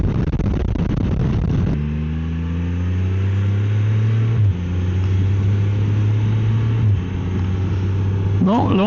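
A 2025 Can-Am Canyon Redrock three-wheeler motorcycle runs steadily over a rutted trail, its engine holding a droning tone that dips and shifts in pitch with throttle changes, heard up close with wind rush and no voices.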